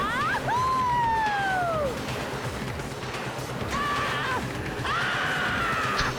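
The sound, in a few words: screams of riders on a roller coaster, from video game Danganronpa 2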